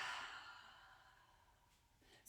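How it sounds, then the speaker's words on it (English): A single long, soft exhale during yoga arm circles, a breathy sigh that fades gradually over about two seconds, quiet and close, with a faint intake or rustle at the very end. "breathing in and out"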